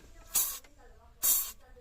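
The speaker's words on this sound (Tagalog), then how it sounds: "Mas spray lang natin ang ano yan, WD-40 para kumintab" Two short hissing bursts of WD-40 aerosol sprayed onto a DIY cover for a manual car window on a Vios, each about a third of a second, close and crisp, with a pause between.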